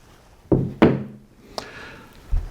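A single-acting toggle clamp worked by hand: two sharp metallic thunks close together, then a lighter click and a dull knock, near and distinct.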